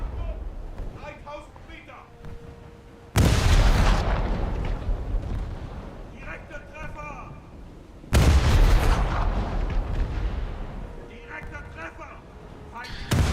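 Ship guns in a naval warfare game fire two heavy booming salvos a few seconds apart, each a sudden loud blast that rumbles away, under ongoing speech.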